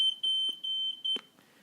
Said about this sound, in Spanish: el ruido de una alarma